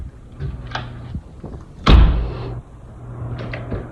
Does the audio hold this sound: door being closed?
yes